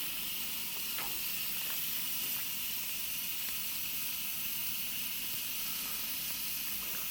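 Food with Montreal seasoning sizzling on a Coleman grill outdoors, a steady hiss with faint crackles and a few light clicks throughout.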